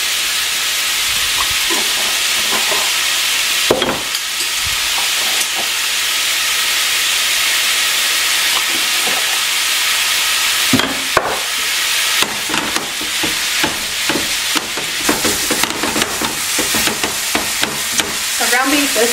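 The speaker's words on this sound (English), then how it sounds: "Alright, so we're going to just cook this hamburger." Ground beef frying in a pan with a steady, loud sizzle and hiss, broken by scraping stirs from a utensil that grow busier and more frequent toward the end.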